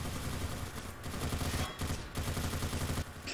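A sentry gun in a video game fires in rapid, dense bursts at sticky bombs on the final point of Gorge, a loud continuous rattle broken by a few brief pauses, with no talking.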